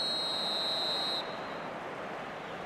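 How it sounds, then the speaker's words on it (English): A referee's half-time whistle in the football video game eFootball 2026 sounds as one long, steady, shrill blast over a constant crowd hum, then cuts off, leaving the crowd murmur alone. "And there is the half-time whistle."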